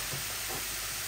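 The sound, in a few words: beef heart and liver cooking in a pan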